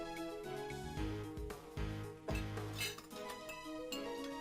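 Teacups and dishes clinking while tea is made in the video game Ace Attorney Investigations 2: quiet, repeated light porcelain clinks and taps spread across several seconds, with no voices.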